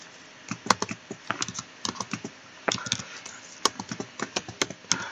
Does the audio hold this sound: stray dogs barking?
no